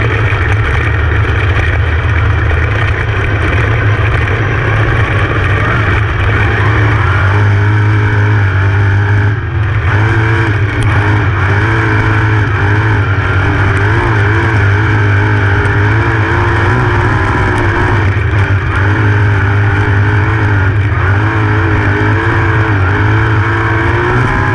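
Race car engines from an ISCS Speedweek field idle and rev loudly and close by while heading out onto the track for a heat race, a steady, dense drone with shifting throttle and no talking.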